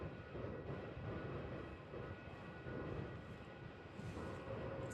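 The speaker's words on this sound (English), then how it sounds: "It's got that Q-jet coming in off the high speed" A Qantas jet rolls off the high-speed exit at Melbourne Airport, a steady broad engine rumble with a whining hiss building near the end, heard from a distance.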